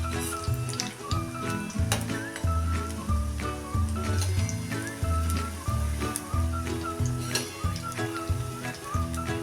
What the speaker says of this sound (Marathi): एवढं तेल आपण तापवून घ्यायचं आहे त्यात असं करून ह्या सगळ्या शंकरपाळ्या आपण तळून काढायच्या आहेत